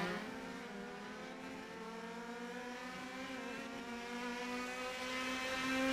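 Simulated race cars lapping Sonoma Raceway in a sim racing game, engine notes droning and slowly rising through the gears, one buzzing high-revving whine held steadily without any talk.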